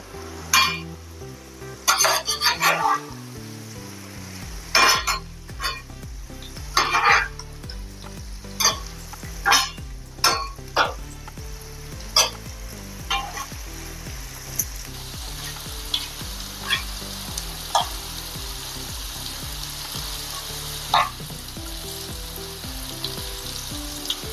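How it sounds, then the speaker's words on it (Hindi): Okra (bhindi) sizzles and crackles steadily as it fries in oil in a pan, with repeated sharp scrapes and clinks of a spatula stirring and turning it, up close and loud throughout. "अपनी भिंडी अच्छे से तलकर तैयार हो गई है"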